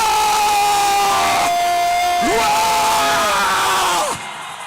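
A church congregation at a closing prayer service shouts "wow" together: a loud, sustained crowd yell with rising and falling voices, several swelling cries overlapping before cutting off sharply at the end.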